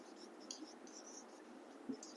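Chalk or marker writing on a classroom board during a Hindi agriculture lesson, faint steady scratching strokes under low room noise, with no talk over it.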